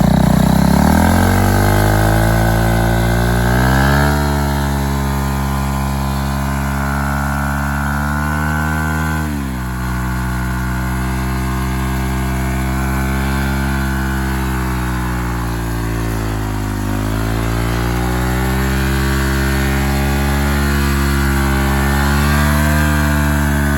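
A KTM Duke 390 motorcycle engine revs hard and climbs through clutchless upshifts, pitch rising then dropping at each gear change, loud and close throughout.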